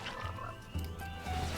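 A Dart Frog croaking in the Frogstorm video game, a couple of short low croaks over soft game background sound.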